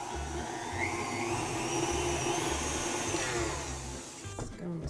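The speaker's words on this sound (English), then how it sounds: "we're going to mix this together until it's nice and light and fluffy" An electric mixer whirs steadily while beating granulated sugar until light and fluffy for ube cookies, a loud continuous motor hum with a pulsing low throb that eases off near the end.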